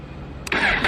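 A Suzuki GSX-R1000R motorcycle engine cranks and catches at about the half-second mark, a brief starter burst rising into a steady, fairly loud idle that continues to the end, with no talking.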